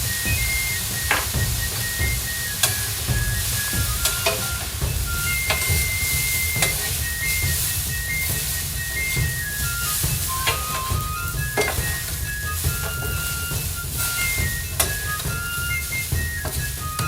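Food with soy sauce frying on a Vevor 22-inch 1600W electric flat top griddle gives a steady loud sizzle, with scraping spatula strokes and occasional clicks, close up and without talking.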